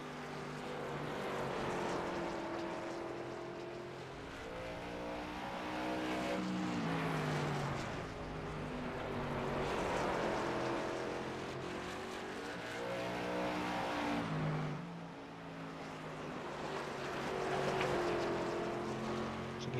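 Several race car engines from the iRacing sim at South Boston, including the #64 Napa Auto Parts car, drone steadily for the whole stretch, their pitches rising and falling in overlapping waves as cars pass, loud and continuous with no talk.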